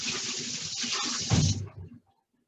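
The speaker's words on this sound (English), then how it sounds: "Let me wash my hands." Hands being washed under a running kitchen tap while cooking eggs Benedict, a steady close splashing stream with a louder burst of water against the hands before the flow stops.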